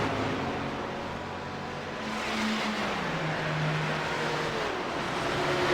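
GT3 race cars at Road Atlanta scream past in a continuous blend of engine howl, with rising and falling tones as drivers work through the gears, heard at a distance.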